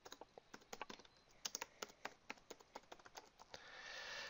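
Rapid, uneven keystrokes clatter on a computer keyboard as an address is entered, crisp and close with short pauses between bursts, followed by a soft hiss at the end.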